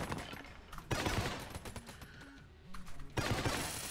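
Rapid bursts of video game gunfire from Enter the Gungeon, dense crackling volleys in clusters separated by brief lulls, with quieter electronic game tones between the shooting.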